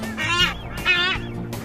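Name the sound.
nesting seabirds on a Galapagos bluff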